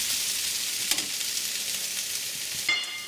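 Leftover turkey stir-fry sizzles steadily in a hot pan while being crusted on one side, a constant bright hiss with a few small pops and crackles and no voices.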